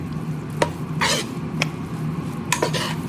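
A spoon stirs and mixes food in a non-stick pan on the stove, with a soft background sizzle and several distinct scraping strokes against the pan surface, close and clear.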